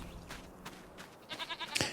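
Goats in a Farming Simulator 25 pen bleat several times, with short wavering calls near and moderately loud over a soft ambient background of 25 penned goats.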